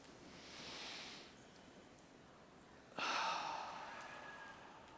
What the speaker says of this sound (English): I'd like to ask you all to take one giant deep breath with me